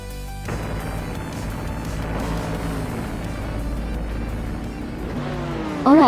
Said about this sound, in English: the race is underway at Lime Rock Park